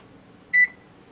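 An oven timer gives a single short, clear electronic beep as it is set, close and alone against a quiet room.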